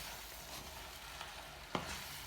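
Alfredo sauce with Parmesan sizzles in a pan while being stirred, a soft continuous frying hiss with a few faint scrapes and one sharper clink.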